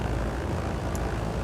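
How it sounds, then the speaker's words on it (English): A Blackbox Simulations Trislander's propeller engines drone in flight in a simulator, a loud, steady, dense roar filling the whole moment without variation, no voices. "The engine noises in this Blackbox Simulations Trislander are truly superb"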